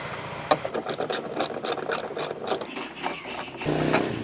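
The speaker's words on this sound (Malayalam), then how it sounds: "ഇനി ഈ ഒരു സൈഡും കൂടെ പെട്ടെന്ന് ഞാനൊന്ന് അഴിക്കട്ടെ." A car reverse light bulb is unscrewed and pulled from its holder. The twisting gives a run of quick, close ratcheting clicks and plastic scrapes, then a short rougher rustle at the end.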